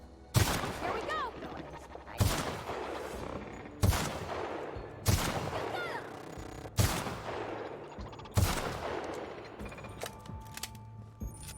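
An anti-robot rifle in The Outer Worlds video game fires six single heavy shots at roughly even intervals, each a loud crack followed by a mechanical ring and decay, with no talking.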